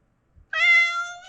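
A house cat in a kitchen gives a single clear, drawn-out meow, close and fairly loud after a brief soft rustle, with no talking.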